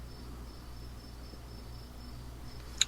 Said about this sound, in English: Crickets in the background, and it's just so romantic sounding